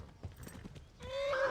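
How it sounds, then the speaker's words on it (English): A horse in Kingdom Come Deliverance clops its hooves in a quick uneven patter, then lets out a loud, rising whinny that rings clearly over the hoofbeats. "Oh, the horse is kicking off."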